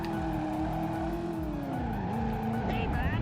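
Car engine roaring loudly in the Driver video game during a handbrake turn, with a sustained pitch that sags and climbs again and tire squeal rising near the end, continuous and close throughout.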